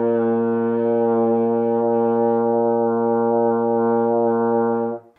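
A single long, steady open B flat on a euphonium with no valves pressed, a warm, full brass tone held evenly for about five seconds, then released.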